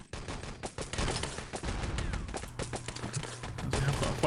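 MP40 submachine guns and other weapons rattle in a heavy crossfire in Wolfenstein: Enemy Territory, dense overlapping bursts of fairly faint, distant gunfire with commentary voices underneath.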